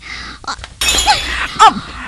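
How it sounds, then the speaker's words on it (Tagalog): A drinking glass of calamansi juice drops and shatters indoors, a sharp breaking crash with scattered clinks, followed by a brief exclamation; a voice talks just before it. "Nay, nabuyan kong baso sang kalamansi juice."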